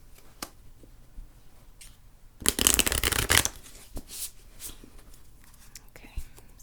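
A deck of tarot cards is riffle-shuffled close to the microphone, one dense, papery burst lasting about a second, set among quiet handling taps and soft rustles in a hushed room.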